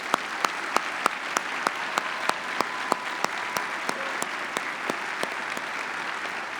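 A commencement audience claps for associate degree graduates, the applause thinner and more spaced, with distinct individual hand claps repeating at a brisk, uneven rhythm over soft crowd hubbub.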